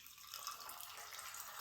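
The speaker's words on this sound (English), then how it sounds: "Take out a glass with a little bit of ice. And pour that bad boy right in." Cocktail (whiskey sour) poured from a shaker into a glass with a little ice: a steady, close splashing liquid pour running for under two seconds, with no talking.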